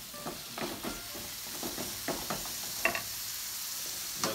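Chicken and bacon sizzle in a pan on the stove, a steady close frying hiss broken by scraping stirs and occasional pops, with no talking.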